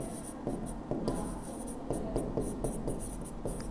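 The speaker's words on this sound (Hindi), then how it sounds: "इसके नीचे आप लिख लेंगे संधारित्र। थोड़ी अच्छे से लिख देते हैं।" Chalk or marker strokes write out the word capacitor on a board during a physics lesson, a steady series of short scratchy strokes with brief pauses, close and fairly quiet.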